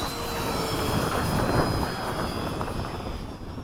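An E-flite F-16 RC model jet making a slow low pass, a steady broadband ducted-fan rush with a thin whine, sustained and moderately close, fading slightly at the end, no talk.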